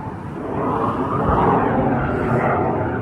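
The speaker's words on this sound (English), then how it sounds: "Oh, there's a jet flying by." A jet aircraft passes high overhead near an airport flight line, a steady broadband roar that swells over the first half second and then holds loud and even, with no voices.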